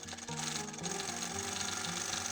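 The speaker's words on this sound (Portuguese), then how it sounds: "eu venho com uma costura aqui com um pé de máquina fechando esta parte aqui" A sewing machine with a presser foot runs steadily, stitching fabric for a face mask, a continuous close mechanical whir with a rhythmic pulse and no pauses.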